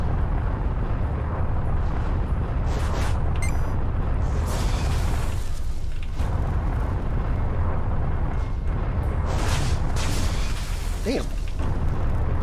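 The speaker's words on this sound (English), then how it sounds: "Stop shooting holes in my ship." Explosions and impacts from weapon fire striking a spaceship in a video game: a dense, continuous roar of booms and bursts, loud and close throughout, with someone briefly speaking over it.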